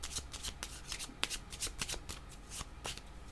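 Cards shuffled during a tarot-style card reading, a quiet close run of crisp riffling flicks and slaps in an uneven rhythm with no talk.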